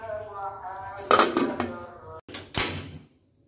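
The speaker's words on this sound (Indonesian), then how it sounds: "Ini tutup lagi ya, karena masih belum 30 menit ya." A metal lid is set back on a pot of beef soup simmering with clear broth in a home kitchen, producing a cluster of close clanks and clinks over a soft background hum, then a final knock before quiet.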